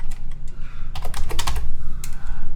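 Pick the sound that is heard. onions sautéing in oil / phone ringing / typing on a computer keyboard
typing on a computer keyboard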